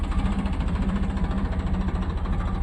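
A Farmtrac 60 tractor engine runs steadily in first gear in a field, a close, continuous low diesel throb with a regular pulsing beat and no talk.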